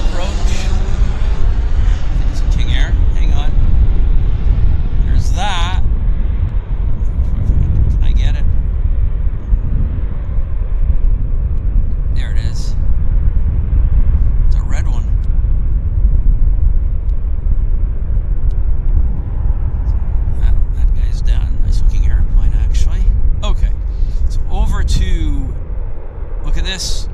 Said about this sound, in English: Oh, we've got a King Air landing. King Air on approach.